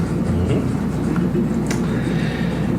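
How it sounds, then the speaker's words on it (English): A train rolling along the tracks: a steady low rumble with a continuous mid-range roar and a few faint clanks, loud and close, with no voices. "And so the train rolls on."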